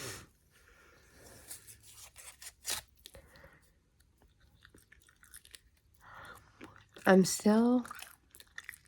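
Gum chewing sits right at the microphone, with soft wet smacks and clicks scattered across quiet gaps, and a softly spoken voice breaks in briefly near the end.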